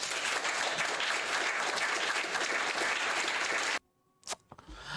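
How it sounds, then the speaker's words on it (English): A burst of steady crowd applause plays for several seconds and cuts off abruptly, followed by a few faint clicks. "I just didn't want to wear out the applause more than anything, so I changed up the sound"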